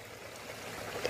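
Water from a small garden waterfall splashes into a fish pond in a steady, soft, continuous rush, heard alone at low volume.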